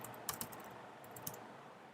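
Keys clatter on a computer keyboard during a Node.js install session in a terminal, a few close, crisp clicks in quick bursts with a brief pause between them, and no voice.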